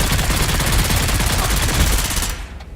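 Rapid automatic gunfire in the Dune: Awakening video game, a loud, dense stream of shots that cuts off sharply near the end.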